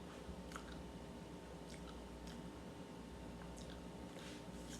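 Someone chewing a crispy toasted bagel, faint wet crunching bites close to the mouth over a steady background hiss.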